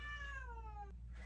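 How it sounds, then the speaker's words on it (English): A cat meows in a drawn-out, falling wail while throwing a fit, one long whining cry close by that cuts off sharply, with a low hum underneath. "Do you guys hear her? She's throwing a fit."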